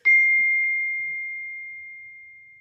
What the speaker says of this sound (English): What was that? It's my phone.